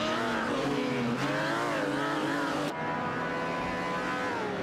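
Race cars roar through a racing video game, a dense, steady engine drone with shifting harmonics rising and falling as the cars accelerate, loud and continuous with a brief cut near the middle.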